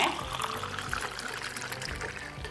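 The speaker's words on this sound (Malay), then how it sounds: "lepas tu kita tuangkan air sirap tadi yang Cik Nah dah masak" Cooked rose syrup poured into a basil seed drink, a steady liquid stream splashing continuously at close range for a couple of seconds, with some voice in the background.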